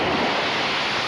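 Wind-driven surf rolls and roars continuously during a flood in Syracuse, New York, a dense close wash of water and gusting wind that stays loud throughout with no voices.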